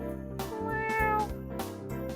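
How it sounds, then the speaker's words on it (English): A stray cat eats bread at someone's feet and lets out several drawn-out, tonal meows in close succession, fairly near and clear with no talking over them. "The cat took my bread and started to eat by my feet."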